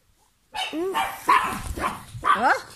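A dog barks close by in a run of four or five sharp, yelping barks with short gaps between them, loud and clear with no other sound.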